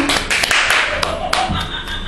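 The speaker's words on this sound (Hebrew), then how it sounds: "מחיאות כפיים" Applause from a small group at a home talk-show style gathering, brisk uneven hand claps sounding close and loud throughout, with voices mixed in.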